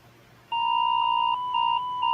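An emergency alert warning tone: a loud, steady electronic two-pitch beep that sounds for over a second, then pulses in repeated segments, close and alone with no voices.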